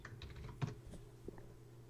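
Rapid keyboard typing, faint and slightly distant, with a few sharper key strikes in a short burst under a low steady hum during an online stream.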